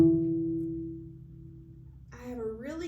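A cello note plucked with the first finger down on the D string, giving an E, rings steadily and fades over two seconds before a voice begins speaking over the dying tone.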